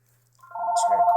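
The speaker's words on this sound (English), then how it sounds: "my home phone just rang" A home telephone starts ringing, its electronic trill swelling out of near silence into a loud, steady warble that continues to the end.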